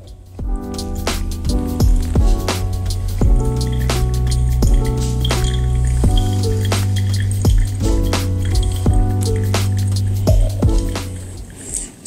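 A pour-over coffee brew with water poured in circular motions over the grounds: a steady trickle and splash runs throughout, broken by frequent sharp drips and small clinks, close and fairly loud, with no talking.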